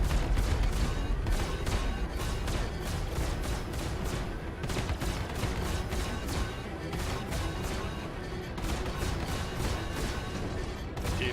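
Ship guns in the space combat game Star Citizen fire in rapid, evenly spaced bursts, a loud stream of crackling shots that keeps going with only brief gaps.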